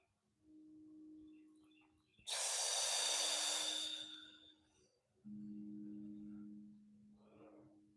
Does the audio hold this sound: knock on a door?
no